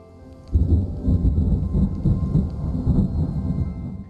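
Rolling thunder with steady rain from a video game weather system where humidity changes trigger rainfall, starting abruptly and rumbling loud and continuous with dense low crackling throughout.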